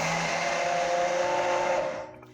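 A blender whirs chopped tomatoes smooth for a vegetarian bolognese sauce, a steady close motor drone with a high whine that runs about two seconds and then winds down.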